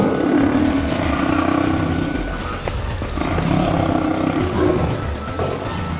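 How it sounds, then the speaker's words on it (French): A group of lionesses circling and attacking an old or sick male lion at Tama Zoo in Japan, with continuous low growling and roaring at a steady loud level, heard at close to middle distance. "une coalition de lionnes encerclant et attaquant un lion mâle"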